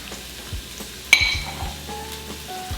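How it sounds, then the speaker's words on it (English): Chopped onion and garlic sauteing in an Instant Pot, a soft steady sizzle close by with a sharp metallic clink of a utensil against the pot and light stirring scrapes. "as you're sauteing your onions and your garlic"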